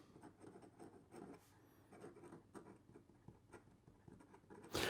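A Platinum Procyon Luster fountain pen with an extra fine nib scratches softly across paper in short, quiet strokes, close up and alone.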